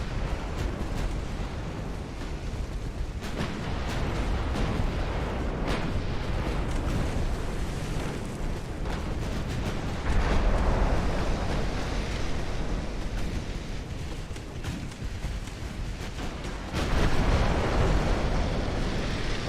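Naval gunfire from battleships trading 9-inch and 12-inch gun salvos in the warship game Ultimate Admiral Dreadnoughts, a steady rumbling barrage of booms and blasts with two louder surges, continuous and fairly loud.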